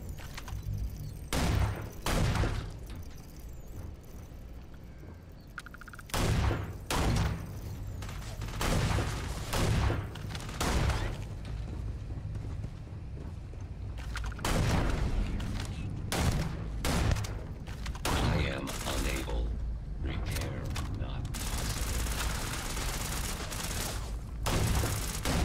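Rapid bursts of gunfire in the video game Starfield, loud and dense, firing in repeated volleys across the whole stretch with brief pauses between barrages, up close with no talk over it.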